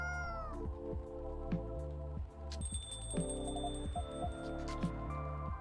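A cat meows in a video game over a looping synthesized music track, several short, fairly soft mews spaced out across the clip with no talking.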